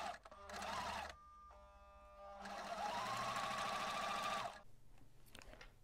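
Fabric is stitched on a sewing machine 1 cm from the edge, with a short whirring burst, a quieter pause, then a longer loud run that stops abruptly.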